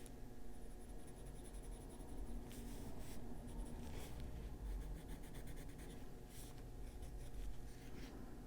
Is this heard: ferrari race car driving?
no